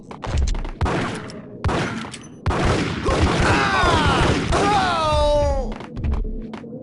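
Bursts of gunfire and heavy thuds from the Max Payne video game, loud and dense, with a chaotic fusillade over a whooshing, descending effect in the middle and a few sharp impacts at the end.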